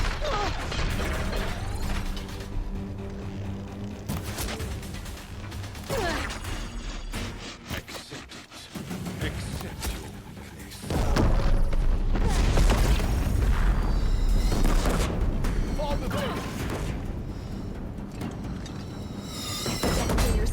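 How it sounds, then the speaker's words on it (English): Heavy mechanical booms and clanking, ratcheting machine noise from Deathbringer war machines firing on a bridge in Horizon, loud and dense throughout with a sharp surge in intensity around midway. "Deathbringers keep firing."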